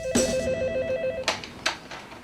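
A telephone rings in a short electronic warbling burst. After it come a couple of faint clicks and handling noises in a quiet room.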